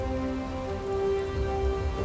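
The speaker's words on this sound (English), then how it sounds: "As you are traveling, it begins to rain." Steady rain on a journey toward a manor, an even wash of falling drops with a faint tonal hum underneath, no voices.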